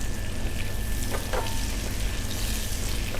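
Dory fish pieces frying in hot oil before being stirred into a seafood dish, a steady close sizzle running throughout with a few brief clinks of a utensil.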